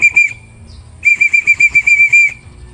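A shrill pigeon-racing whistle blown to call racing pigeons home, two long steady blasts with a gap between them. The second blast is pulsed by many short tongued bursts, ringing out loud and close with no talk.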